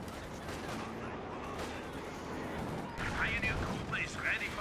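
Gunfire and artillery crump through a Company of Heroes 2 match, OKW Germans against US Forces with a Panzer IV in action, a steady dense battle wash under commentary, with sharper bursts of shots in the last couple of seconds.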